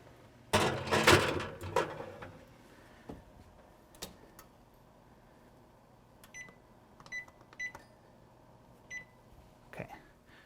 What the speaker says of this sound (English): So let me put it in the oven here.